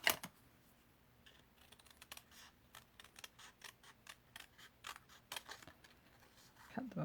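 Scissors snip through die-cut paper Christmas trees in a quick series of sharp, close crisp cuts, with soft rustling of the paper between strokes.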